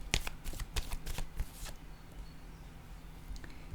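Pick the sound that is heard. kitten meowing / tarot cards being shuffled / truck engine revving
tarot cards being shuffled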